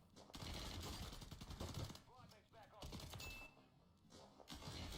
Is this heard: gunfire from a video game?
yes